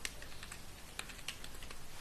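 Quick, faint clicking of keys on a computer keyboard, a rapid irregular patter of light taps with no talking.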